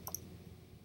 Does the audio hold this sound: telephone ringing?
no